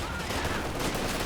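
Machine gun fire in the strategy game Company of Heroes 2, a steady dense stream of automatic shots in a brief busy battle mix.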